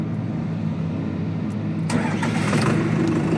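Tractor hydraulic system runs as its control lever is shifted, a steady low engine hum that turns brighter and louder partway through, with a hissing rise near the end.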